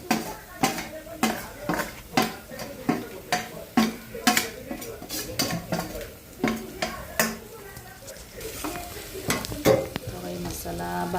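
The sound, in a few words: masala spices frying in a pan for egg curry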